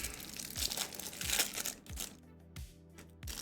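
Crinkling and tearing of plastic packaging as a Zendikar Rising Magic card bundle is opened up close, a busy run of crackles and rips with a few dull thumps, no talk.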